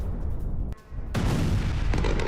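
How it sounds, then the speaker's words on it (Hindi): Explosions heard across Moscow during an attack that air defences failed to stop: a loud, continuous deep rumble with a brief dip, then a heavier, broader roar swelling and holding to the end, with no voices. "मॉस्को के 11 इलाकों में सुने गए धमाके"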